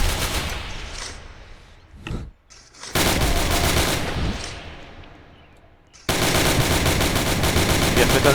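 Bursts of assault rifle fire in a Roblox trench battle: loud, dense automatic volleys that fade, pause, then resume abruptly at full strength, with faint voices underneath.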